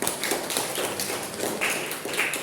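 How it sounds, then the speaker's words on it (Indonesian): A classroom audience gives applause during a microteaching session: steady light clapping and tapping for a few seconds at even loudness, no voices over it. "Give applause to Eugenia."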